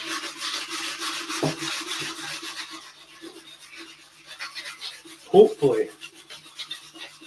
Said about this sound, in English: So now guys, yeah, we're just on this lighter sandpaper.